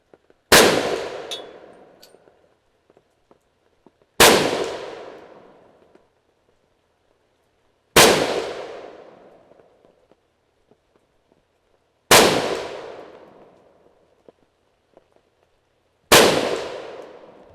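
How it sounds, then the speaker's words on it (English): Five sharp, loud SKS rifle shots firing hand-loaded 7.62x39 rounds outdoors, evenly spaced about four seconds apart, each with a ringing, decaying echo. "those felt like good shots"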